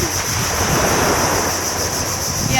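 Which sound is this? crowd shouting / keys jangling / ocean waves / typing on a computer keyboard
ocean waves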